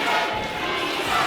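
A wrestling arena crowd chants loudly and steadily in support of wrestler Marcus Burke, a dense, continuous roar of many voices filling the whole moment.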